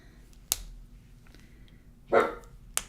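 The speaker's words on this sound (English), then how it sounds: "There's nothing to bark at, and he's barking." Dog barking indoors, a couple of short sharp barks and one louder mid-length bark, fairly close in a quiet room, with no talk.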